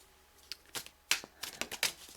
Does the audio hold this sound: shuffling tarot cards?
yes